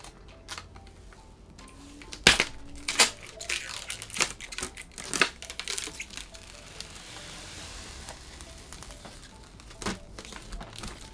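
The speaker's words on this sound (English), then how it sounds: "peel off the plastics" Protective plastic film being peeled off a PC case's side glass panel, giving scattered crinkling and crackling bursts of varying loudness, close by, with no talk.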